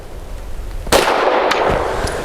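A Tisas PX-9 Gen 3 pistol firing 90-grain lead-free ball ammunition outdoors, one loud sharp crack with a ringing tail followed by fainter reports, with no talk over it.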